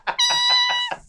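A voice imitates a cat's meow, one drawn-out nasal mew with a clear harmonic tone, close and loud, framed by short breathy onsets at the start and end.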